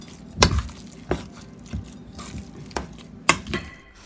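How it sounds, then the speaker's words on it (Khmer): Pork and shrimp shumai filling stirred with added cornstarch, a few distinct clattering knocks of utensil against bowl spaced irregularly over soft background noise, close and moderately loud. "Stir until the powder disappear."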